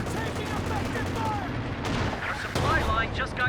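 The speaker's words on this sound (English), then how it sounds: "Couple good hits in there from the AT gun." An anti-tank gun fires in the Company of Heroes 2 video game, with sharp booming shots cutting through a dense, continuous wash of battle noise and gunfire.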